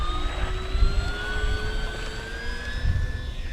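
A Dynam Spitfire MK.VB RC floatplane with a 1200mm wingspan taking off from water, its electric motor whining steadily and rising in pitch as it climbs, loud and close, with a low rumble underneath.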